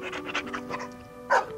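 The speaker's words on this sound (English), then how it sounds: "stands in his hind leg, keeps sniffing the dog hair" Benji the dog, a video-game pet, panting and sniffing in quick rhythmic bursts close up, with a louder snuffle near the end, over a faint steady tone.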